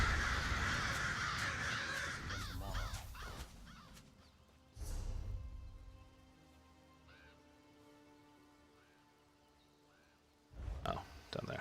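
Crows caw in Elder Scrolls Online, a loud flurry of calls over rain at first, then a few scattered caws against quieter ambience, with faint game chimes and another burst near the end.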